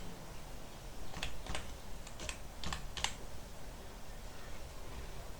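Typing on a computer keyboard while searching health topics for a blog: a quick burst of soft key clicks near the middle, then quiet room tone.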